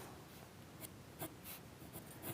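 A soft 3B or 4B pencil scratches and sweeps across paper while sketching boat masts, with quiet, close strokes coming in short irregular bursts.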